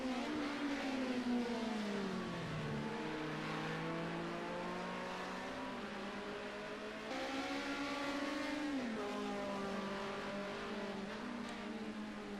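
BMW race cars at full throttle in a club race at Hockenheim, engines loud and steady with rising and falling pitch as drivers run flat out through a left-hand corner, a sustained continuous roar throughout.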